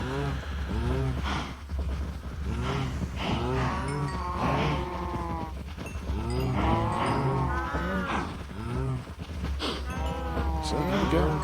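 Cows in the video game Minecraft moo repeatedly in drawn-out calls, several overlapping and close by, over a low steady background hum.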